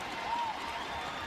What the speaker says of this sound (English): Crowd goes wild here at Everett.